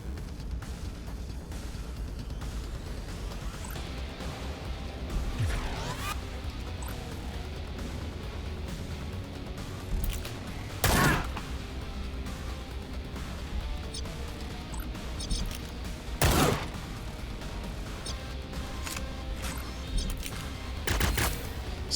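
Gunshots ring out in the tactical video game Cyber Knights Flashpoint, with several sharp, loud cracks spaced seconds apart over a steady low background hum.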